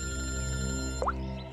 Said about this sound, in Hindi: पूर्वी का फोन है।